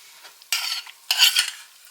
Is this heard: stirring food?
yes